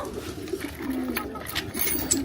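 Pigeons cooing in a roomy aviary, a low warbling coo rising and falling repeatedly up close, with fainter chirps and rustling around it and no speech.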